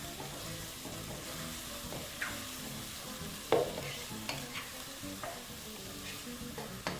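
Chopped onion and ginger stir-fried in a pan for Ethiopian doro wot chicken, a steady close sizzle with scraping stirs of a spoon and occasional clinks against the pan, no talking.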